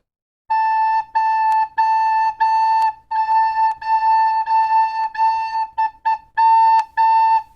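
A recorder sounds the note A over and over in short and longer tones with brief gaps, bright and steady, heard alone and close for several seconds.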